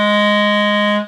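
A clarinet holds a low B flat note: one steady, reedy tone, loud and close, sustained for about a second before cutting off cleanly, with no talking.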